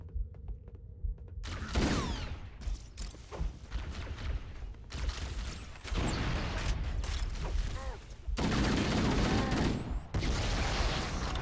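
Repeated gunfire in Halo: Combat Evolved, with loud bursts of shots and mechanical clatter that start after a brief quieter moment and continue in heavy waves to the end.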